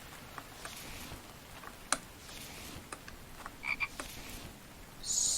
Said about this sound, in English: So, let's see, there's a frog.